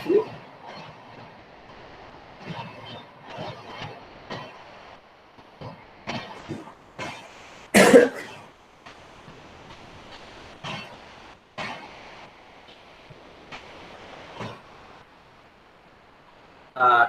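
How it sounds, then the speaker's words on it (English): A train rolls past close by in a steady, broadband rumble with rhythmic wheel clatter and intermittent sharp bursts, one very loud screech near the middle, lasting throughout without talk. "let the train pass by"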